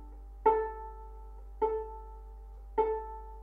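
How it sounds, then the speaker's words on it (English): Open A string on a violin or viola, bowed three times in even, separate strokes, each clear tone swelling and tapering, close and alone. "And the A string sounds like this."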